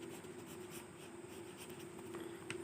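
Chalk or marker scratching across a board during a maths lecture, a steady continuous scraping with faint taps over a constant background hum, no talking.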